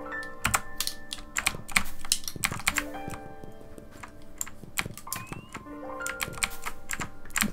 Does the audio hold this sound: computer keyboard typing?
yes